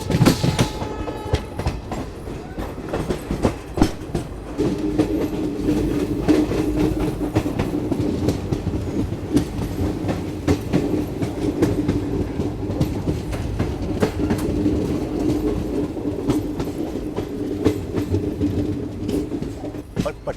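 Jammu Garib Rath express train running steadily along the tracks, heard from on board as a continuous rumble with rhythmic clickety-clack of wheels over rail joints and faint background voices.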